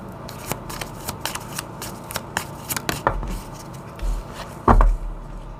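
Oracle cards shuffled by hand, a run of crisp riffling flicks up close, ending with a few louder slaps and thumps as the deck is squared.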